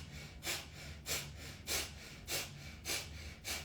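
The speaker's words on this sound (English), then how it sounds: "we'll breathe through the nose, breath of fire" Breath of fire: rhythmic forceful breaths pushed through the nose during a seated yoga breathing exercise, six even bursts about half a second apart, close and alone.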